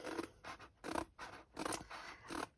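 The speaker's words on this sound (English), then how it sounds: "So we'll just trim it down a little bit just so that it fits neatly into the plastic wallet in the display book." Scissors trim a sheet of paper down to fit a plastic display-book wallet, with about seven short, close snipping cuts in a steady rhythm, quiet and alone.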